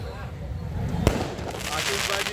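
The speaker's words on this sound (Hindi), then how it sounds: "आतिशबाजी का हर साल की तरीके से बड़े ज़ोरों शोरों में यहाँ हुई." Fireworks go off at an outdoor Christmas charity event where blankets and grain are handed out to the poor, with crackling bursts and one sharp bang over a constant noisy crowd.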